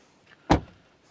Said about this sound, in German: wenn wir jetzt die Tür mal zumachen